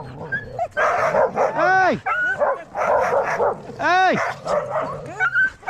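A sled dog team barks, yips and whines excitedly while being hooked up, with clusters of loud, overlapping barks close by and a person shouting commands over the racket.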